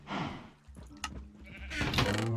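Minecraft cows in a survival game make a cluster of bleating, mooing animal calls. A call comes first, a few brief sharper sounds follow, and the calls swell loudly again near the end. No one speaks.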